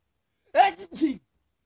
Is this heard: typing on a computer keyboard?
no